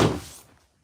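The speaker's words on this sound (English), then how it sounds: "Gotta shut this door." A door shut with a single dull thunk that dies away within half a second, close by in a quiet room.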